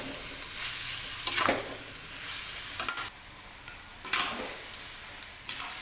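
Beef rendang with spices and kaffir lime leaves being stirred in a pan, a continuous loud sizzle with scraping stir strokes and a few sharp utensil knocks.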